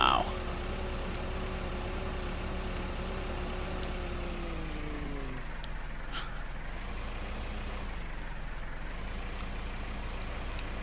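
Tractor engine in Farming Simulator 2015, a steady low droning hum with harmonic tones that rise and then drop away midway, continuing as a quieter rumble to the end.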